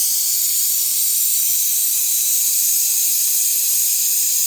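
A welding torch flame gives a steady, loud, bright hiss that continues without a break and without any talking.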